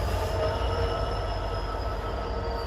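A slow freight train rolls past nearby in a steady, continuous low rumble with faint high wheel squeal, no voices.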